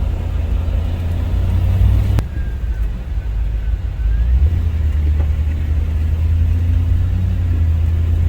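A Land Rover Defender drives along a road toward High Point State Park in New Jersey, its engine and road noise forming a loud, steady low rumble from inside the cabin, with a brief knock early on.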